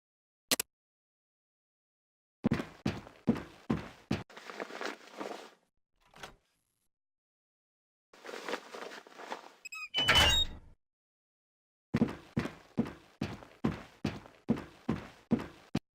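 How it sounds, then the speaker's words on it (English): Door unlocked and opened in Fallout Tactics: Brotherhood of Steel, with a sharp click, bursts of rhythmic footsteps, a scraping slide and a loud clunking thud, separated by silences. "left-click on the door to open it, and walk through the open door to Training Station 4"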